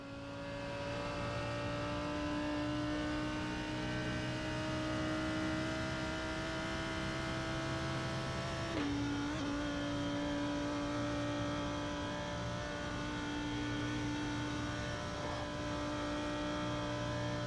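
Lamborghini Huracan GT3 Evo accelerating at the Nürburgring in a racing game, a loud steady engine whine climbing in pitch with a gear-shift dip partway through, continuous and close, no voices.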